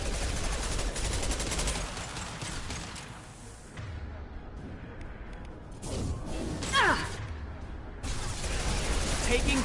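Gunfire in the Mass Effect 2 video game, bursts of rapid shots and crashes of varying loudness through the stretch, with combat effects in between.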